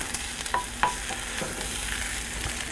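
Onions and peas cooking in a pan, a continuous soft sizzle with a few light clinks and scrapes of stirring early on.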